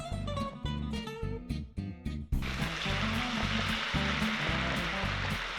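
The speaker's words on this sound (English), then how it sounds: "You need to hear this sizzle." A loud, bright sizzle of chili and garlic in a pan, with a cup of pasta water added, bursts in after a short stretch of music and continues steadily, music still playing underneath.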